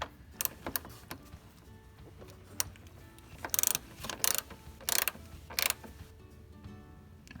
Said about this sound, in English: then we'll tighten both of these up